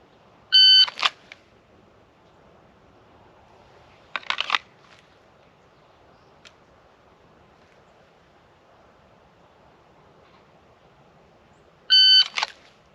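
A shot timer sounds three loud electronic beeps spaced several seconds apart during dry-fire handgun draw practice, each followed by brief clicks and handling noise, with quiet pauses between.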